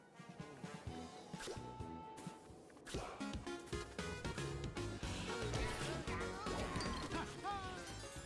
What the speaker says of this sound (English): I could use a bit of help smashing away this giant icebox